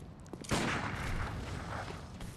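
A single loud gunshot in the Bloodborne video game, a sharp blast followed by a lingering echoing tail that fades over about two seconds.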